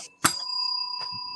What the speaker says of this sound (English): I had to hit the bell